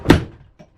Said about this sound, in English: Let me close the door behind me here.